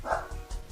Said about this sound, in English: A dog.